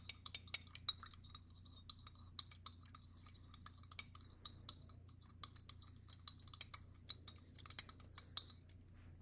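Solid sample C being stirred into a base solution in laboratory glassware, giving sharp, irregular little clinks and taps of a stirrer against glass, close and fairly quiet, with no talking.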